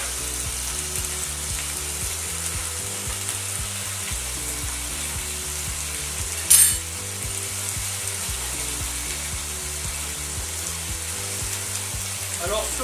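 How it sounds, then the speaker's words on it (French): Meat browning in hot oil in a pan, a steady close sizzle and crackle running without a break, with faint low background hum and a single brief sharp clink partway through. "on y met la viande que l'on va faire revenir"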